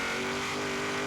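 A 2014 Chevrolet Super Sport engine revving in the racing game Forza Horizon 3, a loud, sustained, steady engine roar held at high revs.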